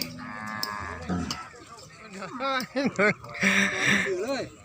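Water buffalo low repeatedly at a busy livestock market, drawn-out moaning calls rising and falling over steady crowd chatter, with people talking nearby.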